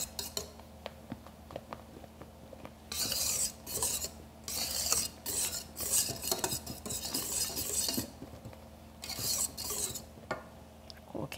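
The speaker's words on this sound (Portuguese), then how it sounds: "vou usar um fouet, porque aí a gente não perde esse volume que conseguiu com a batida dos ovos" A whisk scrapes and clinks against a bowl as sifted dry ingredients are folded into beaten egg batter for a chocolate roll cake, coming in irregular bursts of rapid stirring with quiet pauses between.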